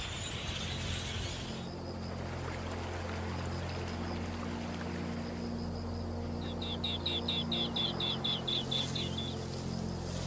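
Waterbirds calling across the rain-swollen Liuwa marshes in the wet season, a rapid series of high chirping calls rising over a steady hiss of rain and a low droning background.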